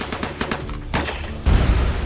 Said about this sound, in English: but they're tragically gunned down